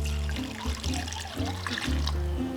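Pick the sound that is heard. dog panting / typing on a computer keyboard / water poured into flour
water poured into flour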